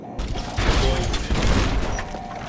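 Missile launched and exploding in Fallout: New Vegas, a loud rumbling blast with booming low end and crackling debris that swells, dips and surges again over a couple of seconds.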